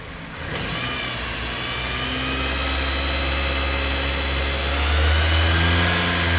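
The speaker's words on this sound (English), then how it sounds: "I'm going to climb up there and give it some gas and see if I can get it to mess up" A 2013 Dodge Avenger with a crankshaft position sensor fault starts up and revs, the engine note rising to a loud, steady drone that climbs again near the end, close by with no talking.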